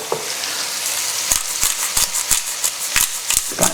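Onions frying in melted butter in a pan, a loud steady sizzle broken by sharp clicks and taps from a utensil against the pan at irregular intervals.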